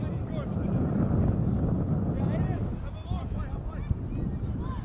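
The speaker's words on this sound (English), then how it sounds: "There's a bit of gust here" Gusty wind buffeting an outdoor microphone at a football match, a loud, steady low rumble that swells in waves beneath a commentator's voice.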